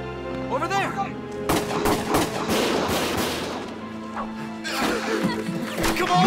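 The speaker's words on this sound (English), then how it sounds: "Gunfire!" Dense bursts of rapid gunfire and explosions from the video game Valkyria Chronicles crackle continuously, loud and layered, with a voice briefly audible at the start.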